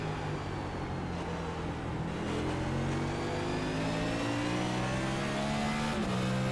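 Several NASCAR stock cars controlled by iRacing AI drive Martinsville in a racing game, their engines droning loudly and steadily with abrupt on-off throttle swings that shift the pitch up and down.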